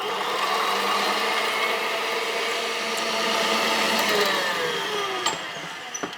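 An electric mixer running on high, whipping egg whites for tiramisu, gives a loud, steady whirring drone that holds throughout, with a few light knocks toward the end.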